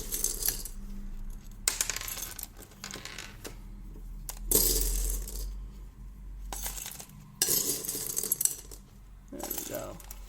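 LECA clay pebbles rattle and crunch in bursts as an orchid pot holding a Phalaenopsis is squeezed and massaged, close-up clattering separated by short quiet gaps.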